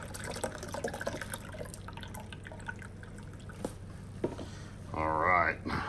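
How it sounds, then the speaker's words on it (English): Beef broth mixture poured out of a Vitamix blender for short rib birria, soft drips and trickles building to a fuller liquid pour near the end. "I'm actually gonna pour it in here because we wanna get all this good stuff out of the"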